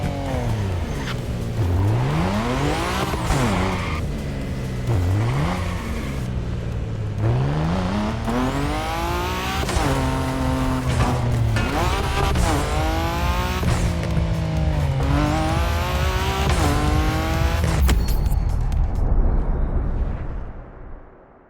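Race cars duel in a toge race in The Crew Motorfest, engines loud and close, revving up and down through repeated rising gear sweeps with continuous roaring acceleration until a fade at the end.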